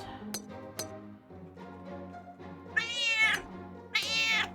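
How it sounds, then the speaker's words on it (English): A pet cat meows several times in a row, drawn-out vocal calls rising in loudness, with two sharper, strained cries near the end, heard close up indoors. "what is it, cat? You are being a noisy butt"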